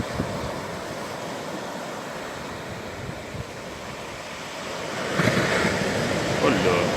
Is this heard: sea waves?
yes